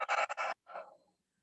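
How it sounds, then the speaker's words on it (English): A deep breath during a yoga side stretch: a few rough, airy pulses followed by a longer, softer exhale that fades out, close and alone. "Deep breath in. Exhale."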